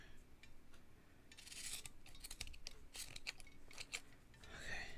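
Scissors snip through fabric while someone trims handmade fabric earrings. The cuts are quiet, close and come in several short bursts.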